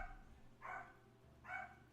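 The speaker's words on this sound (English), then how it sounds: "Oh my gosh, the dogs are barking." Dogs bark twice in the distance, two short separate bursts about a second apart over a low, quiet background hum.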